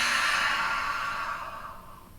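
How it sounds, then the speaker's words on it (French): A long, steady exhale through the mouth during a yoga breathing exercise, a soft breathy hiss that gradually fades away, close and alone with no talking. "Une expire par la bouche."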